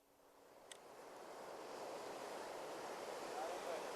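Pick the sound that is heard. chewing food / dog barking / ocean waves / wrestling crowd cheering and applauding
ocean waves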